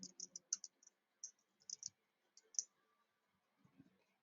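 Quiet computer mouse clicks sound in short irregular bursts, some clustered as quick double clicks, then pause, close and soft against a silent background.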